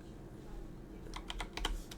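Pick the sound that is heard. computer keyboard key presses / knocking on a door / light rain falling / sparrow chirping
computer keyboard key presses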